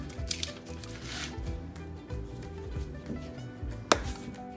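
Spice rub spread by hand over raw pork for pulled pork, giving soft rubbing and squishing sounds with a few sharper taps and one brief louder knock near the end, close and steady, with no talk.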